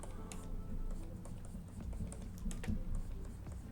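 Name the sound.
pressing the Alt key on a computer keyboard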